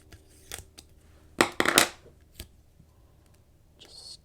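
Scissors cut paper for a planner in a few close, crisp snips, with a cluster of louder cuts in the middle and scattered lighter clicks around them.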